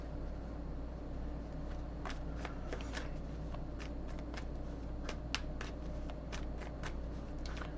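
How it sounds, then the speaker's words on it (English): Tarot cards shuffled by hand, a steady run of soft, crisp riffling and slapping card sounds, close and fairly quiet over a constant low background hum, with no talking. "Oops, all these cards want to come out."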